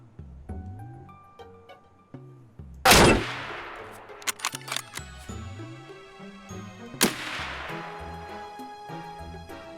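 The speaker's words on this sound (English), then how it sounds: "I just killed the player and probably shot his friend in the leg or something" Several heavy Mosin bolt-action rifle shots in Escape From Tarkov ring out loud and close, each with a long echoing tail, amid quieter game clatter and no talk.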